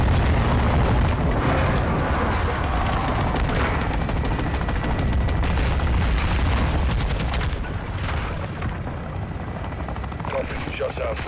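Weapons fire in the video game Modern Warfare II, with dense rolling explosions and rapid gunfire over a constant helicopter rotor drone, loud and sustained, with radio voices mixed in.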